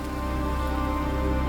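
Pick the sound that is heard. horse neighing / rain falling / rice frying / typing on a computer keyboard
rain falling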